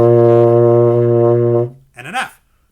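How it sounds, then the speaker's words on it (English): A baritone horn holds a B flat note loud and steady for about a second and a half, then a brief voice follows. "Here's what a B flat sounds like."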